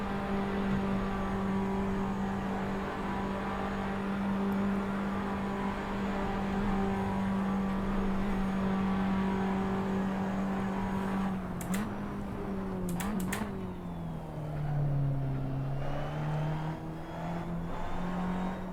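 Racing trucks in Assetto Corsa, including a GMC, drone along at steady engine pitch, the low roar holding flat out, then a brief clatter of shifts and a dip as revs fall and climb again.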